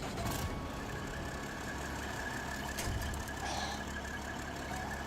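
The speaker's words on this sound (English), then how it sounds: "I guess I gotta start my engine first." A truck engine in the off-road driving game SnowRunner rumbles steadily at a low idle, a dense continuous drone with a faint thump partway through and no voices.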